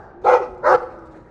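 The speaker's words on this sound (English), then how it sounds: "I like the doggy." Dog barking in the video game Dragon Age 2, two short, clear barks about half a second apart, fairly close and alone with no talking.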